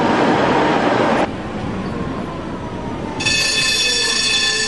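A Bilbao metro train rolls past with a loud rushing roar, the wash dropping off briefly before high, whining wheel squeal and tonal motor hum rise for the rest of the pass, with no talking.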